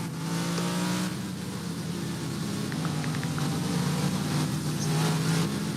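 Apex Supercars Championship cars leaving the Silverstone grid behind the safety car, a steady blended engine drone at moderate distance with no talk over it.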